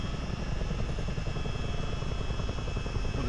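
A CH-47D Chinook helicopter flies in a flight simulator game, its twin rotors making a continuous, loud, rhythmic thumping drone over low engine rumble, steady the whole time.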